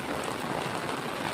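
Steady rain falls in an unbroken, even hiss that fills the whole moment at moderate loudness, with no pauses, no separate drops standing out and no voices.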